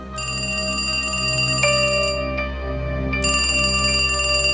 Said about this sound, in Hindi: सुबह देवांश की आंख उसके मोबाइल की रिंग की आवाज से खुली